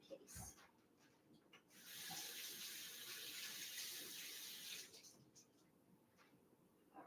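Tap water runs into a sink while leaves are rinsed, a steady gushing hiss in the middle stretch with handling clatter and quiet background voice around it.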